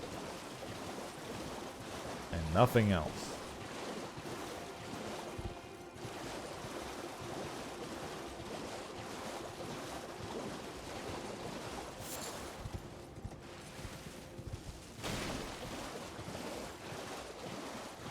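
Water and gentle waves in the video game Elden Ring, a steady wash of surf with wind-like noise throughout, with a brief louder splash near the start.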